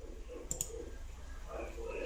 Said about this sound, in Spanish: Vamos a marcar haciendo clic.